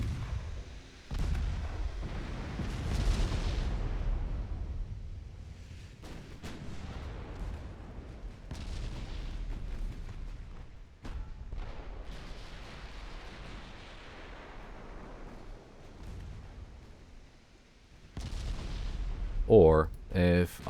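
Warship guns firing in the naval game Ultimate Admiral Dreadnoughts during a 1913 French campaign action at Sumatra: deep booming salvos rolling out one after another with rumbling tails, loud and close.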